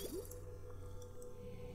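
Water leaking from cracking pipes in the video game Oxygen Not Included, heard as soft dripping, squishy liquid noises over a steady low hum.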